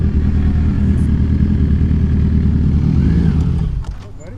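A Yamaha R6 street bike motorcycle engine runs with a steady, loud, close rumble for most of the clip, then drops away sharply near the end.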